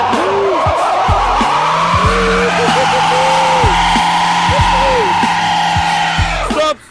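A Chevrolet Gentra's tires squeal and skid hard while it strains to tow a heavy load. The engine roars loudly throughout, with repeated wavering shrieks, and voices are heard under the noise.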